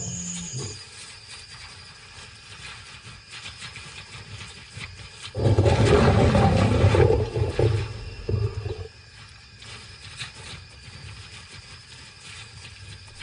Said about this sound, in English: The other male responds, and his roars will not go unanswered.